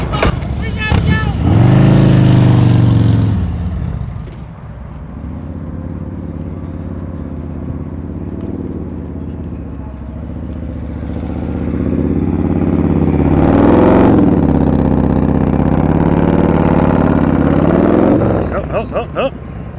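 BMW motorcycle engine during slow-speed riding practice in Tennessee, a close low rumble that swells and eases as the bike creeps and accelerates, with short bursts of revving.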